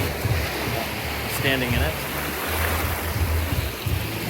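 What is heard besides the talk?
ocean waves in the Bahamas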